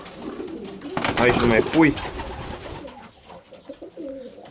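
Pigeons in a home loft coo in soft repeated rolls, mid-distance, while someone talks over them and other birds stir in the background.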